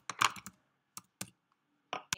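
Computer keyboard typing in short bursts: a quick cluster of clicks, then a few spaced single keystrokes, close and crisp against silence.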